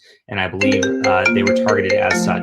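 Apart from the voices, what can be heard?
phone ringing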